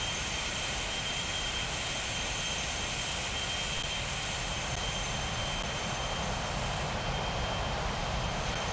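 A HondaJet's jet engines in a flight simulator game give a steady, dense roar with a constant whine on top, unbroken and even throughout, with no talk.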